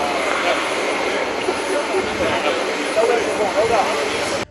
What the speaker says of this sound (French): Son avion atterrit ce 7 avril à l'aéroport de Bamako-Sénou à 16h40 GMT